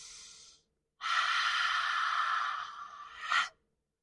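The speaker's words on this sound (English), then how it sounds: "Take 3 long, slow, deep breaths in through the nose and out through the mouth with a sigh" Slow, deep breathing fills the quiet: a short breath fades out, then after a pause comes one long, airy exhale with a sigh that swells to a breathy peak before it stops. No one speaks.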